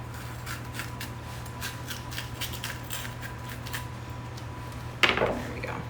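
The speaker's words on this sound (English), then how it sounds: "I'm gonna take the middle out here. Same thing on your green pepper. I just use the tip of my knife." A kitchen knife tip scrapes and cuts the pith from a green pepper with a run of light, rapid scratching strokes over a steady hum, ending in a sharper clatter.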